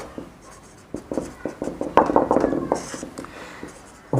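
Chalk or a marker writing on a classroom board during a maths lesson, producing irregular scratching and tapping strokes, close and moderately loud, with no talk over it.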